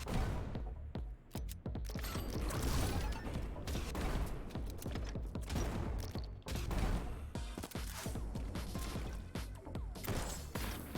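Sharp sniper rifle shots crack repeatedly in the fast first-person game Neon White, loud bursts scattered over a busy bed of game effects and music.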